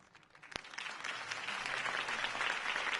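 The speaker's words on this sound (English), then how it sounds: "If only Mr. Wayne, my campaign's largest backer, could have heard that applause" Applause rises from a sharp single clap into steady, dense clapping from a large crowd, building and holding to the end.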